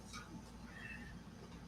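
A house cat gives a brief, faint meow indoors, short and soft against a quiet background.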